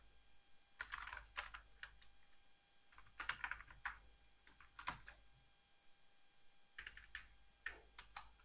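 Someone types on a computer keyboard in short bursts of quiet clicking keystrokes with pauses between groups, soft and close.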